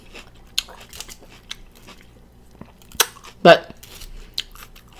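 Close, crisp chewing and crunching on a ribeye steak salad, a few sharp bites and crunches scattered over several seconds, with brief speech.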